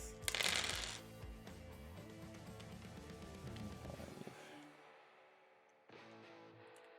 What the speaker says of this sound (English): And I'll roll that, and I'll roll my dice.